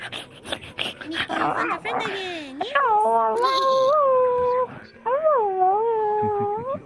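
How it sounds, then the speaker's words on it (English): A dog in a roleplay video game, named Meatball, gives a few short barks and whimpers near the start, followed by long sustained tonal calls, with game ambience and some talk around it. "Soliloquy's dog seems fond of me."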